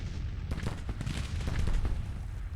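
Musket fire in a Civil War strategy game, a ragged volley of booming shots that overlap and rumble across the field, close and loud, continuing in uneven bursts.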